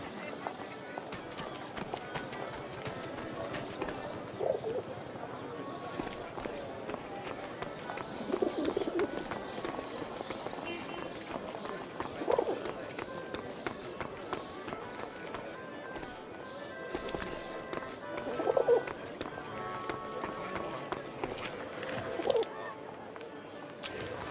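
A pigeon coos softly in a First World War video game, recurring among ambient game sounds with faint hoof-like clip-clop. Voices talk over it throughout.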